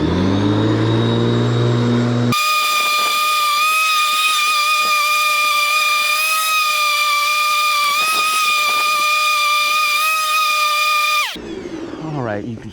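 Ryobi corded electric lawn mower cutting grass with a grass catcher attached, a loud steady electric motor whine holding constant for about nine seconds before it cuts off, with a brief moment of outdoor ambience at the start and end.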